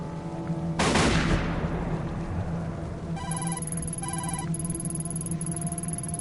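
A single sharp gunshot in a video game rings out near the start with a decaying tail, followed by repeated electronic beeping tones over a low hum.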